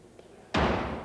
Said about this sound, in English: The door to the House of Commons ceremoniously slammed in the face of Black Rod